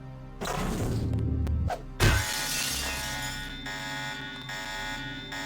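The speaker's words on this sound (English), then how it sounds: "Apparently their windows had alarm systems" A window alarm in the Deus Ex video game goes off with a sharp shattering thunk, then a loud, steady electronic alarm drones on continuously under game ambience.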